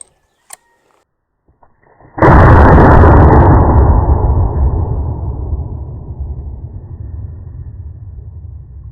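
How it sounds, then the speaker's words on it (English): A single massive gunshot from an 1874 Sharps rifle in .50-140, fired outdoors on a shooting range: a sharp, very loud blast followed by a long, rolling boom that decays slowly over several seconds, with no voices. "firing a big old 50 caliber Sharps in 5140 out here on the range"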